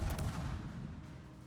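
Royal Navy Tribal-class destroyer HMS Eskimo firing armor-piercing shells in World of Warships, a muffled booming salvo at the start that trails off into a low rumble, fairly faint.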